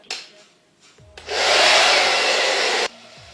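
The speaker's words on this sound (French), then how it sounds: "Et comme d'habitude, je vais sécher à froid." A hair dryer on the cold setting starts with a click, blows a steady loud whoosh close by for about two seconds, then switches off abruptly.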